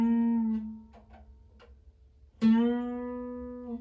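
An electric guitar note on the fourth string at the seventh fret rings out, fades into a few soft muted plucks, then is struck again and bent upward a whole step, the pitch sliding and sustaining cleanly and fairly quietly.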